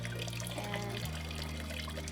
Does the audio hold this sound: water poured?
yes